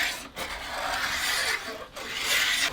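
Rhythmic rasping strokes of a blade scraping down a fire-hardened hickory self bow limb, three long passes with brief pauses between, close and steady.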